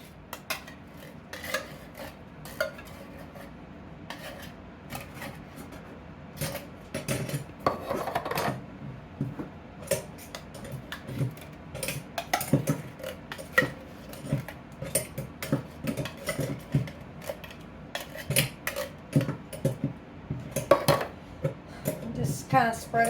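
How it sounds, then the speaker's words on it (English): Sliced apples are tipped into a baking dish for an apple dump cake, giving a steady stream of soft thuds, scrapes and rattles against the dish, with people talking over it. "first thing you do is put your apples in"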